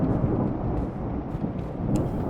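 Thunder rumbles low and sustained through a storm in the video game Escape The Backrooms, with rain hiss over it and no voices.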